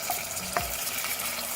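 Onion, garlic-ginger paste and tomato frying in a pan make a soft, steady sizzle with a brief scrape of stirring, close up and without talking.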